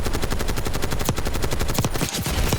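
Dense automatic gunfire in Black Ops 6 rattles in fast, continuous bursts, loud and close. Several weapons seem to overlap near the end, and no voices are heard.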